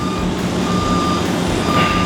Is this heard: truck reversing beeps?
yes